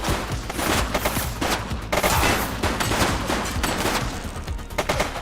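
Dense, continuous gunfire in the police game The Precinct, rapid overlapping shots and machine-gun bursts hammering loudly without a break throughout.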